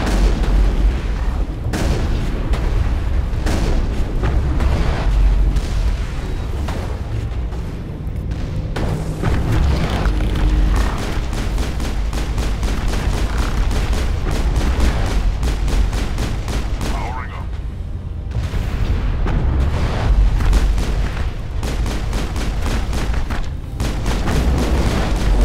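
Turret gunfire and explosions during a battle in the video game Mass Effect: rapid bursts of shots and heavy booms come thick and loud throughout, with brief lulls between volleys.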